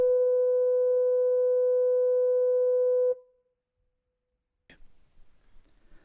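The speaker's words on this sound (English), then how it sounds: "It had been superseded by a higher-pitched electronic signal with a much reduced audible range" Steady high-pitched electronic fog signal from Portland Bill lighthouse, a continuous tone with harmonics sounding loud for about three seconds before cutting off abruptly, followed by silence and faint rustling.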